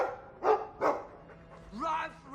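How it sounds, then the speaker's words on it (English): Dog barking in the video game Dragon Age II, two clear barks followed by a softer whimpering yip, with a voice also present. "I like the doggy."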